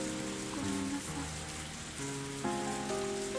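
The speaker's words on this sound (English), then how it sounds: "The rain didn't stop that day, even after night had fallen." Steady rain falls, a soft continuous hiss of drops on surfaces that runs the whole time beneath a gentle tonal music bed.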